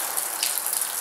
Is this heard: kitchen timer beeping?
no